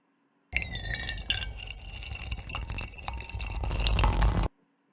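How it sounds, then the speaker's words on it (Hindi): Water poured from a small bottle into a larger bottle, a steady splashing gurgle lasting about four seconds that swells toward the end before stopping abruptly, with no talking. "pour 1 bottle of water in big bottle"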